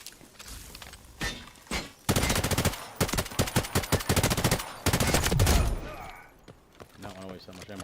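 Rapid bursts of video game gunfire, with machine-gun volleys and single heavy shots rattling loudly and close in dense clusters, separated by brief pauses.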